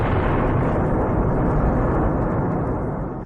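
A launch rocket explodes shortly after liftoff, carrying a spacecraft, heard as a dense, roaring broadband blast that holds steady and loud for several seconds before tapering off at the end.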